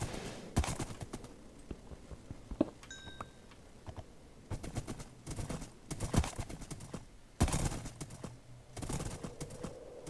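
Horse hooves clip-clop in bursts in a horse-riding video game, a repeated rhythmic clatter that comes and goes over a steady low background as the horse takes damage in bad weather.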